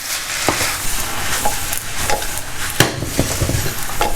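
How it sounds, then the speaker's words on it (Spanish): Yakisoba noodles with sauce, mushrooms, onion and meat are stirred in a hot pan, with a steady sizzle and scraping, knocking strokes of a utensil throughout, close and fairly loud. "Venga, removemos. Para que se impregnen todos con la salsa."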